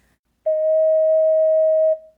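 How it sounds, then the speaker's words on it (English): One sustained ocarina tone, D sharp, smooth and even, held for roughly a second and a half before tapering off, played alone. "Let's move on to a D sharp or E flat."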